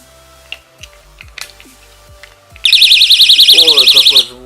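After a few clicks and taps, a battery-powered door and window alarm from AliExpress sounds: a loud, close, rapidly warbling electronic siren pulsing steadily for about a second and a half.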